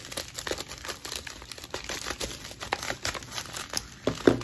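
Plastic bubble mailer crinkles and tears as its end is cut open, a steady close-up rustle of crumpling packaging with sharper tearing bursts, louder near the finish.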